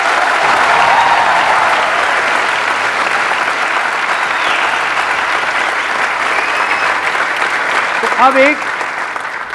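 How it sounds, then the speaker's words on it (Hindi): Audience applause fills a stage talk hall, a dense steady clapping loud from the start and slowly thinning, with a voice speaking briefly near the end. "जब मैं आता हूं स्टेज के ऊपर तो एक लेवल है तालियों का"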